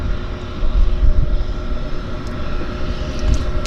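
Airplane landing at Vancouver Harbour Airport, a steady loud engine roar with deep rumble and whine sustained throughout, fairly close and unbroken.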